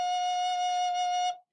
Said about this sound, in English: So when you play F sharp, it sounds like this.